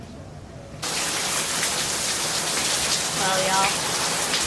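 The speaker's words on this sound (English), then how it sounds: "Texas storm blows in about 5 minutes." A Texas rainstorm blowing in, starting as quiet outdoor ambience, then abruptly becoming a loud, steady wash of heavy rain, with a man's brief remark under the downpour.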